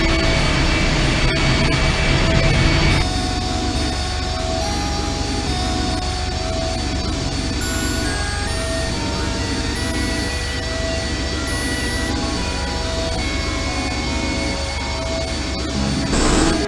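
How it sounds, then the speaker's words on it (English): A video game engine starts up with a loud, sustained rumbling roar and layered droning tones, strongest at first, then settling into a steady heavy hum that continues throughout. "I'll be damned. The engine's starting up again."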